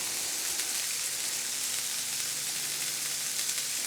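Beef and bone marrow burger patties sear on an oiled griddle, giving a steady, close, even sizzle that fills the whole stretch with no talking.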